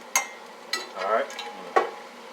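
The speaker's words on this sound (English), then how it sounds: "Mix up our spaghetti. We got a nice little boil going to it." A utensil stirring spaghetti in a pot of boiling water, with three sharp scrapes and knocks against the pot over a soft bubbling hiss, close up.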